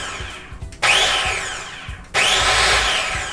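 A food processor pulses flour and salt, two loud whirring bursts each starting abruptly and winding down gradually, close and with no talk.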